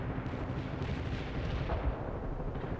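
Artillery strike in the World in Conflict battlefield, a dense continuous rumble of distant shelling with no distinct single blasts, steady and moderately loud throughout.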